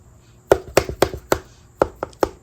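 Bright, lively knocks on the plain base surface of a canvas painting, eight crisp taps in an uneven rhythm, close and clear without any talking.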